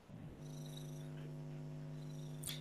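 A cat purrs close up, a soft, steady low rumbling drone after a brief rustle at the start, quiet and continuous for a couple of seconds, with a faint scratch near the end.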